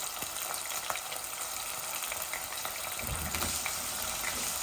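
Chicken pieces and tomato frying in hot oil in a pan, a steady loud sizzle and crackle that swells a little toward the end, with no talking.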